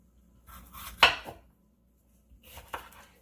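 A knife chops peppers on a cutting board in a home kitchen, two short bursts of knocking cuts separated by a pause, close and crisp with no talking.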